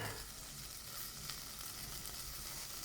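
Garlic and tomato sautéing in a home kitchen pan give a steady, close hiss of sizzling oil that runs unbroken throughout, with no voices.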